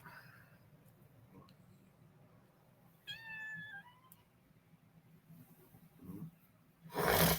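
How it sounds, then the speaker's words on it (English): A house cat meows once, a short clear harmonic call in the middle of a quiet room with low background hum, followed by faint rustling and a brief louder noise near the end. "What's up, cat? You can't be in the video."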